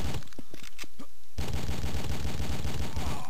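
Gunfire at an enemy in a video game: a few scattered shots, then a rapid, rhythmic automatic burst that continues steadily and loudly to the end.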